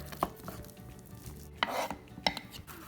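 A knife chops cooked meat on a cutting board for homemade split pea soup, a few sharp, separate knocks spaced irregularly, close and fairly quiet against a low kitchen background, no talking.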